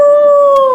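A person voices a single sustained wolf-like howl that glides slightly downward in pitch, loud and near, imitating a wolf.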